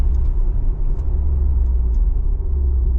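Steady low rumble of a 2024 Dodge Hornet R/T engine heard from inside the cabin during downshifts, loud and continuous with faint brief blips, no talking.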